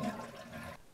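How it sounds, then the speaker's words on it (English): Household toilet being flushed: a loud rushing gush of water that cuts off abruptly near the end, leaving faint background noise. "let's flush that toilet."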